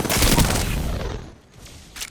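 A fast burst of automatic gunfire from a gun in Apex Legends, loud and dense for about a second, then fading, followed by a lone sharp shot.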